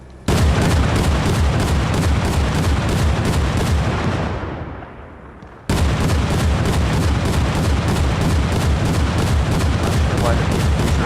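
Heavy, fast gunfire and artillery-like booms from a combat vehicle in a video game pound loudly and nearly without a break, cut off briefly by a short gap before the barrage resumes.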